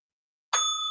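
A single bright notification bell ding strikes after a moment of silence and rings on with a clear metallic tone.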